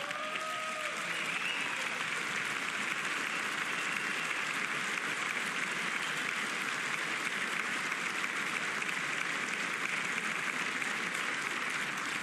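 Sustained, loud audience applause fills a large chamber during a presidential State of the Union address, a dense steady roar of clapping from many hands with no break for the full stretch.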